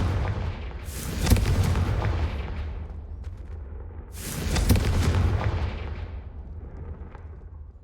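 A Confringo blasting spell goes off in Hogwarts Legacy as two loud booming bursts, each with a sharp crack followed by a long rumbling decay, the second about three seconds after the first.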